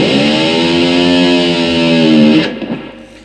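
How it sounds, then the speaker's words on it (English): Electric guitar with the whammy bar dipped deep, its slack low E string ringing out in a distorted, growling drone like a motor, loud and steady, then dropping away into a short scratchy decay. "I dipped it so far in that the low E string just rings out and it sounds like this"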